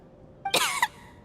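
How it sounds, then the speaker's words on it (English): A video game character in Genshin Impact gives a short, sharp cough, a brief burst of a few close hacking pulses followed by quiet. "How long have you had that cough, Tonya?"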